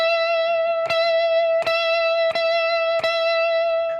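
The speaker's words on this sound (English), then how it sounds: "we're just going to vibrato that note for an entire measure." A single electric guitar note at the 17th fret, from a song, rings out with steady vibrato. It is re-plucked about four times at even intervals, each pick attack sharp and clear, with no talking.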